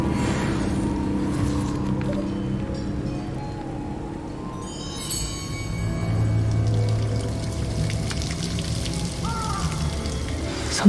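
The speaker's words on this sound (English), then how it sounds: "The waterfall." Continuous broadband rush of a waterfall in the Hogwarts Legacy game world, a steady pouring roar that swells slightly midway and holds at even loudness throughout, with faint game ambience layered over it.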